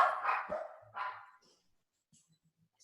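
Dogs barking nearby indoors, two sharp barks in quick succession followed by a few faint yips and then quiet.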